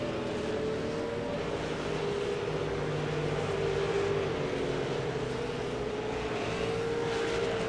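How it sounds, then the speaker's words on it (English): A V8 Supercar on a hot lap at Suzuka in a racing video game, its engine droning steadily with a sustained tonal whine that rises and falls gently through gear changes, continuous and fairly close. "So Sanjin has started his first hot lap. Car number 178. Going through turn 1 for the first time."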